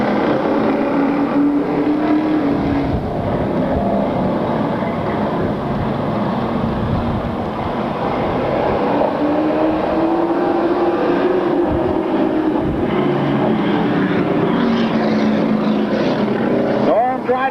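Stock cars race on an oval track in 1996, engines roaring continuously and loud throughout, their pitch rising and falling as the pack passes, with a commentator talking over the noise.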